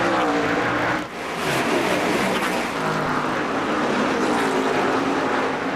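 NASCAR Busch Series stock cars race in the 2003 Food City 250, a dense, continuous engine roar from a pack passing close. One brief dip breaks the steady loud drone.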